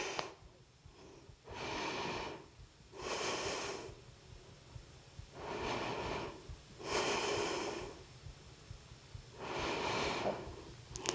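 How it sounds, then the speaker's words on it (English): Slow, deep breaths in a yoga seated twist (Ardha Matsyendrasana), each long audible inhale or exhale through the nose separated by quiet pauses, six breaths close and clear with no talking. "Take some breaths here."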